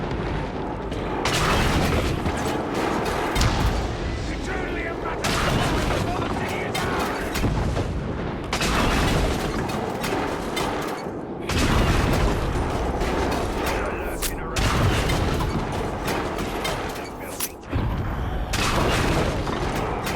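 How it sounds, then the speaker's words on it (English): In the Shadow of War video game, a beast fires at characters: repeated heavy booming blasts with mechanical clanking come in bursts over roughly twenty seconds, loud and close, with voices shouting between the shots. "That dumb beast is shooting at us!"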